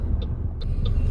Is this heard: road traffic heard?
yes